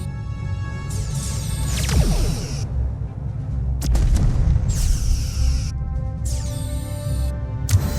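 Torpedo launches and explosions in the Star Trek Voyager: Across the Unknown video game, loud sweeping whooshes and booming blasts over a continuous rumbling starship drone.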